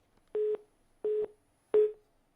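Three evenly spaced beeps of a busy tone, each about a fifth of a second, sound over a dropped phone line connection. They are clear and alone, with near silence between them.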